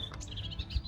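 Birds singing in a garden, with bright repeated chirps and warbling tweets close by over a low steady background rumble, lasting under a second with no one talking.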